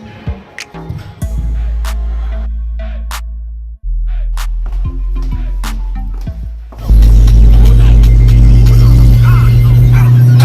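Car engine rumbling steadily from inside the vehicle while driving on the road, low and continuous, swelling louder toward the end as it accelerates, with no talking.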